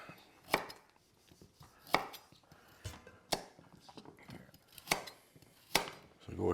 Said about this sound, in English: So go ahead and just cut the carrots like the same, just kind of chunk them